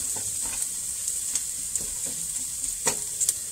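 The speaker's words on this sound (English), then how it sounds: "stir that in, and we're going to cook that for just about 30 seconds, just enough to get the flavor out of that garlic" Garlic frying in a pan while being stirred, a constant bright sizzle with scattered scraping clicks from the utensil, close and fairly loud.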